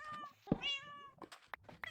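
A Minecraft cat meows several times in short, close, clear calls with small gaps between them, with faint soft game sounds underneath.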